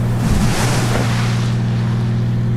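A seaplane in the FSX flight simulator skips across waves as speed builds, giving a steady engine drone with low rumbling tones and bursts of splashing water slapping the hull; no one speaks.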